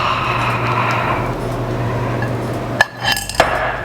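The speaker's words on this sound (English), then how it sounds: "I'm going to whisk it one more time, make sure everything's combined" A whisk worked through a mixture in a bowl gives a steady, close scraping swish over a low hum, ending in a few sharp clinks of metal against the bowl.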